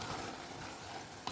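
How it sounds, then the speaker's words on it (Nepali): Mutton curry being stirred in a pan, a steady faint sizzle of frying with soft scraping movements throughout and a brief clatter near the end. "अब यसलाई मजाले चलाउने छु।"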